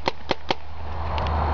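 Three sharp paintball marker shots from a Planet Eclipse Ego fitted with a Grav hopper, evenly spaced in quick succession against steady outdoor background noise, with no talk over them.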